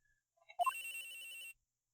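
A telephone rings in the video game Ace Attorney Investigations, a clear electronic trill that starts after a couple of short blips and holds steady for about a second before cutting off cleanly.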